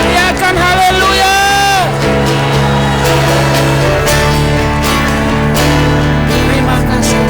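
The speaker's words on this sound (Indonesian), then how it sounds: "Teriakan haleluya." Church congregation shouting hallelujah during a worship service, a loud, dense crowd roar with whoops and yells over sustained music, continuing for several seconds.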